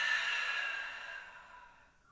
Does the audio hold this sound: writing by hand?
no